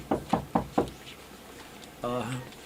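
Four sharp, evenly spaced knocks rap on a door, close and distinct, followed after a short quiet gap by a person speaking.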